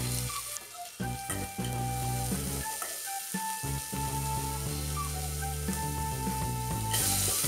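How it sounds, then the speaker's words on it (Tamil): Shallots and curry leaves sautéing in hot oil with garlic and dried chillies for a village-style ridge gourd kadaiyal, a steady close sizzle with occasional stirring clatter throughout. "வெங்காயம் பொன்னிறமாக வர வரைக்கும் வதக்கிக்கலாம்."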